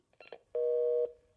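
A telephone hang-up tone from a Korean radio drama: a loud, steady electronic tone sounds for about half a second, then continues more faintly. A few brief, soft sounds come just before it.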